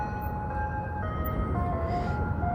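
Chiming melody from an ice cream truck rolling by near a park rings out in a few sustained notes over steady low traffic noise, moderately loud and free of speech.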